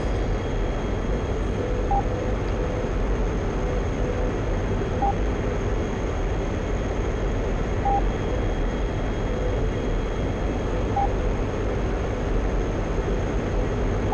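An F-14 jet cruising on autopilot in the DCS flight simulator gives a steady, unbroken engine drone, with faint cockpit beeps repeating every few seconds.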